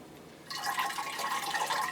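Water pours from a watering can onto an orchid, poured around the edges of its pot, starting after a brief quiet moment and then running as a steady, close trickle and splash.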